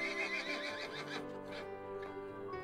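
A horse bred as an Irish draft and thoroughbred cross whinnies in a long, wavering neigh that trails off, with faint hoof clatter beneath, fairly distant and quiet.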